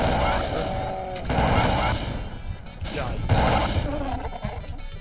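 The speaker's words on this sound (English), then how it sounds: "Go ahead and use a little bit of the plasma here" A plasma rifle fires in MS-DOS Doom, repeated sharp energy bursts mixed with impacts and monster noises in a busy game soundscape, with someone talking over it.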